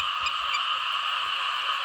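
A dense chorus of frogs croaks across a flooded rice field at night after heavy rain, a continuous loud pulsing drone with a few sharper calls standing out near the start.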